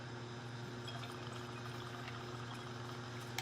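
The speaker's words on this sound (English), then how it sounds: "I'm going to add 2 ounces of bourbon." Bourbon being poured into a cocktail, a steady continuous trickle of liquid close by over a constant low hum, with no talking.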